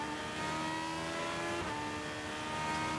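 An IndyCar race car engine heard on board during a qualifying lap at Mid-Ohio, a steady high-pitched wail held at sustained revs with a slight pitch shift midway, loud and continuous with no talking.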